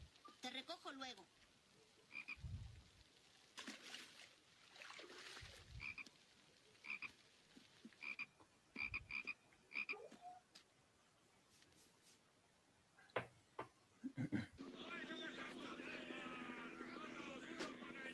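Frogs croak in a steady chorus, with repeated throaty calls near and far over a low droning background that swells louder toward the end.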